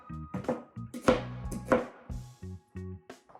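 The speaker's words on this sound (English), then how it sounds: "Just cut the onion in half, whoop, turn it to the side, boom, boom, done." Kitchen knife chopping an onion on a cutting board for chicken noodle soup, a series of close, sharp thunks in an uneven rhythm with a few quicker cuts in between.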